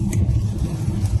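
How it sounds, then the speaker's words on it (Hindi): Morning road traffic at 7 a.m. in Melbourne, Australia, a passing car's engine rumble and tyre noise close by, steady and fairly loud for a brief moment. "यहाँ सुबह के 7 बजे और रोड पे आप हालत देखें कैसे ट्रैफिक है"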